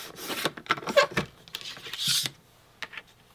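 Extra paper is trimmed off Creative Memories scrapbook album pages, giving short rasping, rubbing cuts in uneven bursts, close and fairly quiet.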